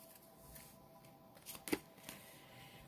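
A deck of tarot cards is shuffled close by, soft papery riffling swelling into a brief flurry of crisp card snaps and then settling, with no voices.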